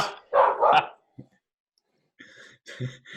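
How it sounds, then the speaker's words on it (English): A dog indoors barks twice in quick succession at a squirrel seen through a window, close and fairly loud, followed by quieter clicks and softer sounds after a pause. "I'm yelling at my dog who's barking at a squirrel that she can see through the window"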